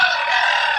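Chickens in a backyard give a brief, close, bright squawk, a single sustained call with no talk over it.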